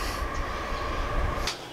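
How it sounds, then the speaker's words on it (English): A passenger train rumbles past at an outdoor shooting range, a steady broadband roar with a faint high squeal of wheels near the end, heard alone without speech. "A lot of passenger trains today. Sounds like another one."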